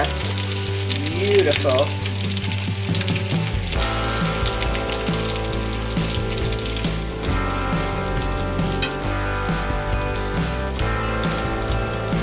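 Wild turkey pieces sizzle and spit in a frying pan as they are turned over, a steady loud crackle of hot oil filling the scene after a low hum at the start, with a brief spoken word.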